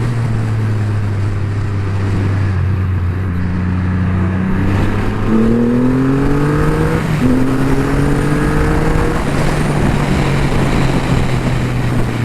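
A Triumph Rocket III GT 2500cc motorcycle accelerating, its loud deep engine drone climbing in pitch through the gears with a brief dip at a shift, heard up close and alone.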